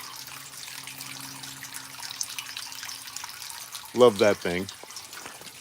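A crane-shaped garden water feature trickles with a soft, continuous splashing in an outdoor sitting area, steady and fairly faint, with a voice briefly speaking near the end.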